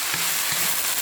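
Ground beef giniling with potato and carrot cubes sizzling steadily in a pan while being stirred, a loud continuous fry with a few soft scraping strokes.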